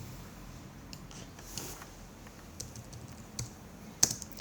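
Typing on a Mac computer keyboard, a loose series of close, light key taps that gets busier and ends in a few sharper clicks, with no voices.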